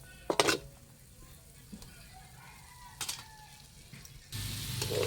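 Onion and garlic go into hot oil left over from frying chicken, so a few metal utensil clinks on the pan give way to a sudden, steady close-up sizzle.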